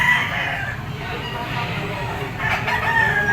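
Green-legged mayahin broodstag rooster at a Lipa auction market crowing amid a busy background of other fowl clucking, with crowing calls rising near the end and a person speaking nearby.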